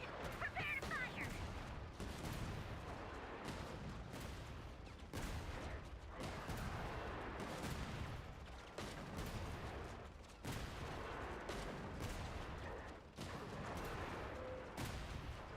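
Battle gunfire in the video game Genshin Impact: dense, continuous volleys of shots and booms, quiet and distant, rolling on without pause through the whole stretch.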